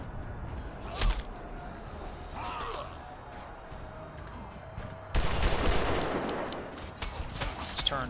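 Gunfire in the video game Captain Blood, sharp shots among game combat noise with a burst of dense blasting in the second half, over faint grunts and voices.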